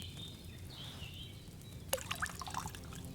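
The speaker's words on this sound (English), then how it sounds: "We'll put the wine in." Wine poured into a cauldron in Kingdom Come Deliverance 2, a soft liquid trickle and drip under faint ambience, followed by a brief run of brighter splashy pours in the second half.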